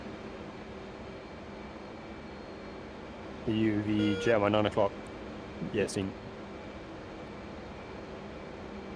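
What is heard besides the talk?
jet aircraft taxiing in a flight simulator video game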